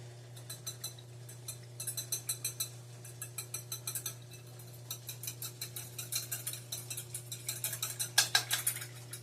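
Whisk clattering steadily against a bowl in fast rhythmic bursts, with brief pauses between runs, close and fairly loud over a low steady hum; no one speaks.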